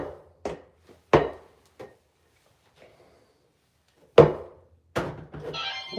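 A ball bounces off the ground in a few separate thunks, hard and close, with long silent gaps between them and a brief voice at the end.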